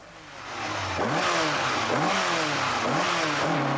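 A 1980s rally car tears round a 2-kilometre special stage at the 1986 Ljoma International Rally in Iceland, its engine revving hard, close and loud, with rising and falling pitch sweeps as it shifts gears and accelerates.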